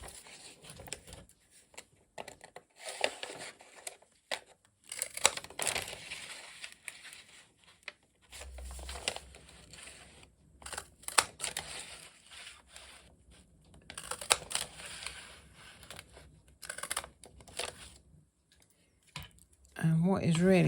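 Scissors snip around the edges of paper leaf shapes in a run of crisp, irregular cuts and rustles, close by, with a person talking over much of it.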